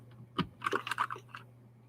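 A Keychron K4 keycap pressed back onto a freshly lubed switch gives a close, crisp cluster of small plastic clicks and taps, a sharp snap followed by several quick rattling contacts.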